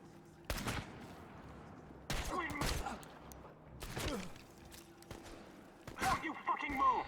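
Gunfire in the video game Chernobylite comes as several sharp, fairly loud shots in separate bursts spread over a few seconds, with someone talking excitedly in between.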